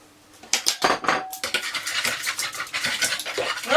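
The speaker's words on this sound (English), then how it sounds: "175 mils of oil, 3 eggs, which you just mix lightly together" Oil and three eggs are mixed lightly together in a jug, giving close, brisk clinks and scraping taps of a utensil against the container in a quick irregular rhythm, with no talking.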